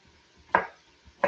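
Two crisp knife chops through a scrubbed, unpeeled garnet sweet potato on a cutting board, each a sharp thud with a short decay, close and alone in a quiet kitchen.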